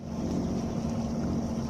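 Sailboat engine motoring under power on a coastal passage, a steady low drone with a constant hum, even and continuous, with some wind and water wash.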